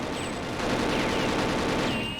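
Rapid automatic gunfire from the video game Perfect Dark at an air base, a dense continuous burst of shots filling the clip at steady loudness with no talk.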